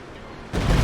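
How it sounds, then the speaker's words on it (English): A Stuka dive bomber in a video game attacks emplacements: a steady rumble bursts into a loud, sudden explosion that keeps roaring. "Stuka coming in on mid on these emplacements."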